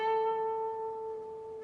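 A single picked note on an electric guitar's B string slides up to the 10th fret and rings with vibrato, a clear sustained tone heard alone and gradually fading.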